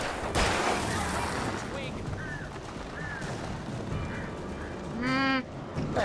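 Attacking birds in the video game Alan Wake squawk and cry in short harsh bursts over a noisy, busy game soundscape, with one louder shrieking call near the end.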